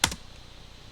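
Two quick clicks of keys on a computer keyboard while Java code is typed, close and crisp, followed by near silence.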